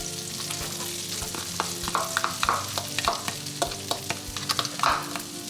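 Garlic stir-frying in a pan while cooking seafood fried black rice, a steady close sizzle broken by frequent sharp scrapes and clacks of a utensil stirring, with no talking.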